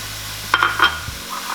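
Chopped celery and carrots drop into a pan of lightly browning onions for a meat pie filling, giving a short burst of clatter and stirring over a steady low sizzle, with no voices.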